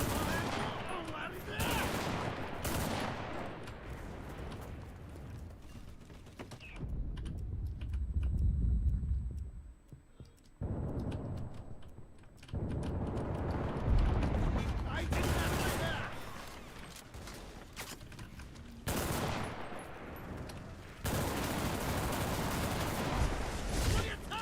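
Rapid bursts of automatic gunfire and single shots in the World War II shooter game Enlisted, loud and repeated throughout with brief lulls, joined by a talking voice.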